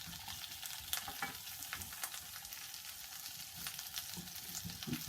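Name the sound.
sweet and ordinary potatoes warming in a pan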